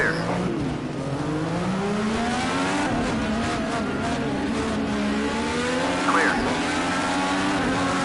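A Honda IndyCar racing engine in a racing video game drones at high revs the whole time, its pitch climbing and shifting through gear changes, with a brief tire squeal and a voice speaking over it.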